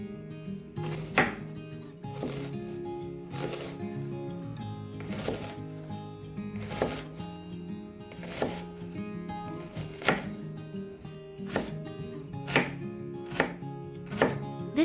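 A knife chops a red onion on a board in even, sharp strokes, about one every second or so, crisp and close with a soft rocking rhythm and no speech.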